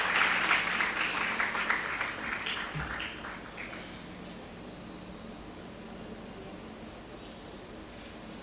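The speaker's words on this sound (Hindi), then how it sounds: "एक बार ज़ोरदार तालियां हो जाए रुचि खरे मैम के लिए" Applause follows the stage honouring of Dr. Ruchi Khare at an Odissi dance event: a crowd claps loudly at first, then gradually fades to a thin, diffuse patter.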